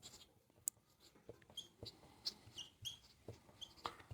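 A marker or chalk writes a trigonometry formula on a board, producing faint, close squeaks and short scratchy strokes in an uneven rhythm with brief taps between them and no talking.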